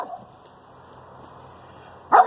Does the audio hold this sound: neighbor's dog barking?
yes